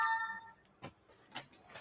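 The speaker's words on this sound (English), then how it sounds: "my phone goes off" A mobile phone rings during an AA meeting: a faint, brief chime of layered tones that fades after about half a second, followed by a few soft, noisy rustling bursts.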